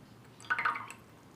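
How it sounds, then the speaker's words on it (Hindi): A few small drips as cotton is dipped into water and lifted out, faint and close, lasting under a second in a quiet room. "पानी में डिप करना है"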